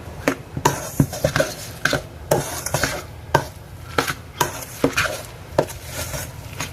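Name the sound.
mixing potato pancake mixture with eggs in a bowl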